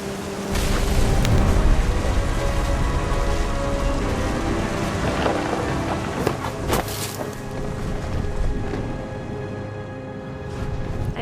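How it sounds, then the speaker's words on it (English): Rain pours steadily in What Remains of Edith Finch while thunder rumbles, with a few sharper crackling strikes in the middle of a constant, loud wash of storm noise. "The thunder sounded much too close and full of angry power."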